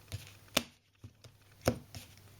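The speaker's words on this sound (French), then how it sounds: "il peut couper les cartes autant de fois qu'il veut comme ceci" A deck of playing cards is cut by hand during a card trick. Several sharp, close taps and slaps come at irregular intervals with quiet between them, and nobody speaks.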